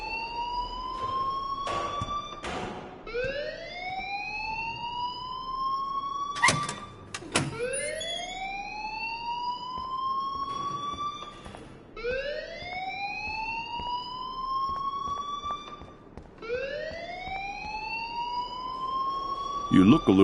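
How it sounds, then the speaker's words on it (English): Repeating electronic alarm in the video game Life is Strange Remastered, rising whooping tones cycling steadily about every four to five seconds, loud and continuous, with brief clicks and knocks between cycles. "please turn off that alarm since that's your job"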